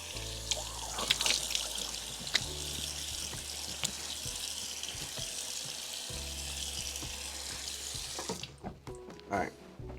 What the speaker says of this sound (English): what I'm gonna start doing is just get some water onto my face before using the face wash to wash my face